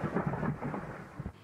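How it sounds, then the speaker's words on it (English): Thunder rolling during a winter snowstorm in Ohio, a low, rumbling swell that rises and fades over a second or so, muffled and fairly faint with no talk. "thunder snow"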